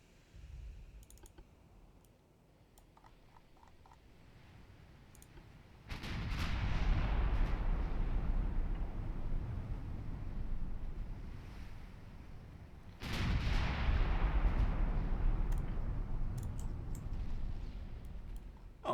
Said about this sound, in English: 12-inch gun, scoring a hit on what I think is actually a light cruiser